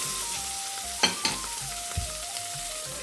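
Tomatoes sautéing in a pan for a long beans curry: a continuous soft sizzle with a few sharp clacks of a spatue stirring, no voices.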